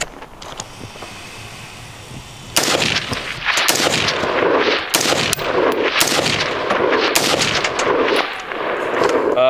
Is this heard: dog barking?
no